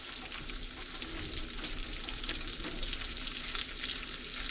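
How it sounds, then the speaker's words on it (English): Bacon fries in a pan with a dense, continuous sizzle and crackle, steady and close throughout with no voices. "Cook your bacon down until it's crisp."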